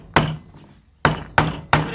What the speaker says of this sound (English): So you grab your hammer,